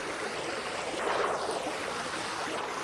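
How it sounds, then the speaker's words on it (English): Rapid flowing water in the block-building survival game Vintage Story gives a steady, close rushing wash that swells slightly midway and runs unbroken throughout. "Look, it's rapid water."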